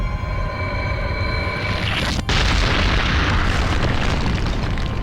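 Idol destroyed in Shadow of the Colossus after the first colossus falls: a sustained loud roaring, crumbling boom that cuts out for an instant, then swells into a dense, continuous rumble with no voices.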